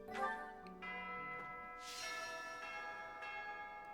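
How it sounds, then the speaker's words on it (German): A bell tolls in Fire Emblem: Three Houses, its bright ringing strikes sustained with long humming overtones, a few strokes layered over soft background game music, fairly quiet and alone without speech. "Das war eine Glocke."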